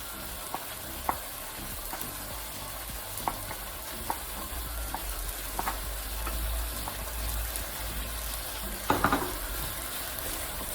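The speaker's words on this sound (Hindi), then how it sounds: "अब इसके अंदर दही ऐड करेंगे।" Chicken karahi sizzling and frying in a pan as yogurt goes in, steady hiss with a few sharp stirring clinks and a louder clatter near the end, no voices.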